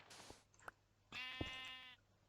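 Sheep in Minecraft give a clear, wavering bleat lasting under a second, preceded by a few soft blocky clicks and thuds, fairly close and with no talking.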